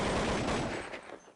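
Rapid automatic gunfire from a Counter-Strike 1.6 match at a professional tournament, a dense loud burst of shots that fades into scattered echoing reports toward the end.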